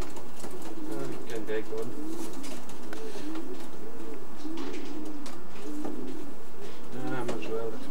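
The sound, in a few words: racing pigeons cooing in loft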